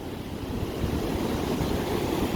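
Steady surf breaking along the rocky Oregon coast, a continuous broadband wash of waves with wind across the microphone, fairly close and unbroken with no voices.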